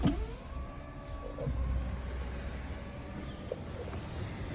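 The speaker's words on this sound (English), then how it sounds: "sunroof, open." Tesla Model S 85D sunroof opening, a soft steady electric motor hum with a faint whir running under light cabin ambience for several seconds.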